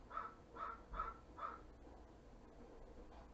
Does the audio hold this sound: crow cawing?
yes